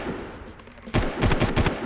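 Gunfire in the Far Cry video game: after a quiet moment, a loud burst of rapid automatic shots rattles out, several sharp reports close together near the end.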